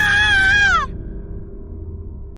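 A yakshini's furious scream rings out, a loud, sustained, wavering shriek that swoops downward and cuts off abruptly, leaving a low droning echo hanging in the forest.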